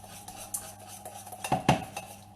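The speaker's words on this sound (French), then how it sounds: "Donc on mélange bien" Savory cannelé batter being mixed in a bowl, with a utensil clinking and scraping against the dish in uneven strokes, close and fairly quiet, two sharper knocks near the end.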